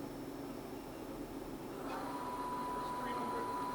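A Southwestern Industries TRAK 3-axis CNC bed mill with its spindle running in low gear gives a steady mechanical hum that rises slightly midway, with thin whining tones on top.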